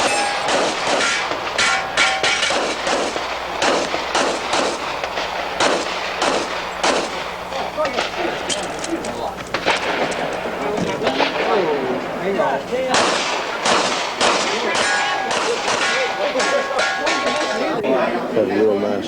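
Rapid gunfire rings out at targets during a Smith & Wesson exhibition shooting show, sharp shots fired in quick bursts and strings, loud and close, with talk and crowd chatter running underneath.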